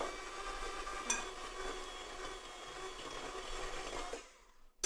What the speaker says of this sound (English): Incorporate all of the shortening with the sugar.